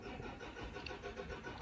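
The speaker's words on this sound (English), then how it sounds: "There's currently a truck outside" A truck engine runs outside a quiet room, a faint, steady mid-range rumble heard from a distance with no voices over it.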